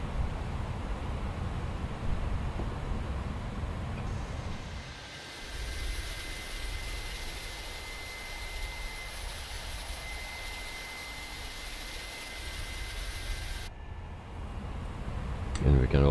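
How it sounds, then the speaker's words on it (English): Airliner engine number 2 starting in Microsoft Flight Simulator 2020, a steady jet whine and roar over a low rumble, with a voice talking over it. "So start engine number 2."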